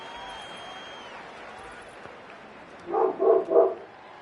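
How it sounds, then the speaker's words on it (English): A pet dog gives three quick barks in a row, moderately close, over a steady indoor background hum with faint game sounds. "My dog's being crazy, trying to distract him."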